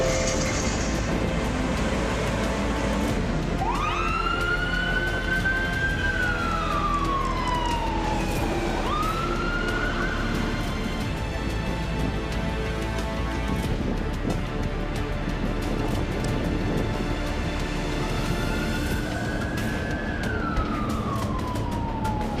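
A fire engine siren wails on a call, long rising and falling sweeps repeating over a steady rumble of traffic or engine noise, loud and fairly close throughout.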